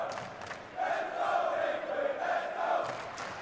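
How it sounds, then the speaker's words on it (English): Team Liquid fans cheer and roar at the StarLadder CS:GO Major in Berlin 2019. The crowd noise swells into a sustained rise across several seconds. "that Liquid cheering section down there is starting to really come alive"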